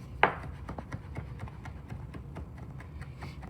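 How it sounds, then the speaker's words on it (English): Knife chopping tough, woody herb leaves on a board: one sharp first cut, then a run of quick, light, irregular taps, close and quiet. "We'll chop that up."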